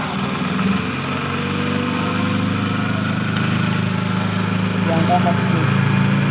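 A DC series motor runs on a lab trainer at a maximum of 40 volts, a steady, loud mechanical hum and whine that holds level throughout while a person speaks briefly over it.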